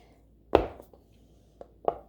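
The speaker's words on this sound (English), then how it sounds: "So with these buns, I'm just chopping away, not even explaining." Soft buns being chopped, three sharp knife strikes on a board, one loud chop followed by two quieter cuts about a second later, close and with no talk.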